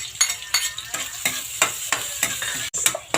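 Garlic sautéing in a pan for Filipino binagoongan, with a steady close sizzle broken by regular scraping stirs about every third of a second.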